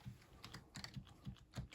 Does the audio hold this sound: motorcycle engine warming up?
no